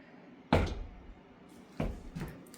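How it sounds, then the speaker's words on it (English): A basement door in a house being opened, heard as a sharp wooden knock-and-creak burst followed by two softer clunks, close and fairly quiet, with no voices. "I'm gonna open the basement door."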